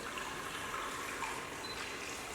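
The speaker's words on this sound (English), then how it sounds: "I need to put some water in my pressure cooker. So I'm just going to put 200 ml." Water, about 200 ml of hot water, runs steadily into a pressure cooker in a home kitchen, a soft continuous trickling pour lasting a couple of seconds with no talking.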